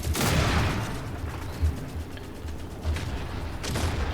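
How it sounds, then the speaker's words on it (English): A tank fight in The Forever Winter brings bursts of gunfire and heavy mechanical creaks and clanks, a loud opening salvo followed by scattered thuds and shots at varying distances. "Since it's a tank fight, I'm going to back off. Another tank's coming in."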